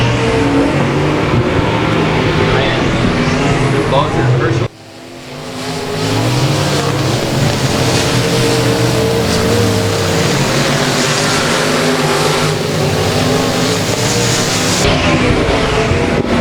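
Race cars roaring down the back straightaway at Boothill Speedway, loud sustained engine noise with revving and passing cars, a brief dip before the roar swells back up and holds.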